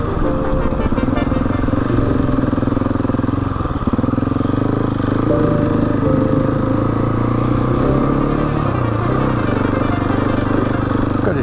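A Husqvarna 701 Enduro motorcycle climbs a steep mountain pass, its single-cylinder engine droning loud and steady with wind buffeting and slight changes in revs throughout.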